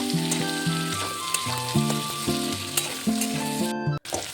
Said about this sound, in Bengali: এবার আলু টমেটো ভালো করে ভেজে নেব।